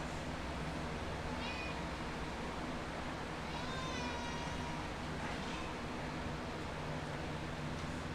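A cat meows a few times, short rising calls near 1.5 and 4 seconds, in a busy home with steady background hum and clatter.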